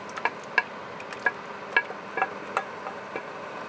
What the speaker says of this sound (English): So I'm now going to transfer into the slow cooker.